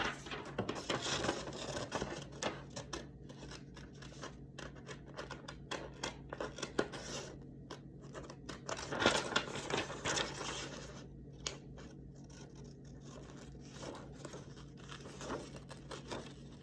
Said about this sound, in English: let's cut this one out